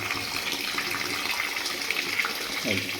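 Cooked rice being rinsed under a running kitchen tap, a steady close gush of water throughout, with a brief shift in the splashing near the end as the flow hits the rice.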